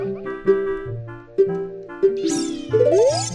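A house cat meows repeatedly in the room, several distinct rising calls close to the microphone over a steady tonal game soundtrack from Ocarina of Time, the last cries longer and more insistent.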